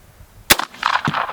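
A single sharp gunshot from an engraved deluxe Winchester 1866 carbine rings out close and loud, followed by a short burst of scattered echoing noise.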